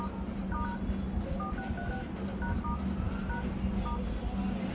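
Keypad tones entering a code on a Redmi 8A phone, a series of short dialing beeps in quick bursts under a loud, steady hum.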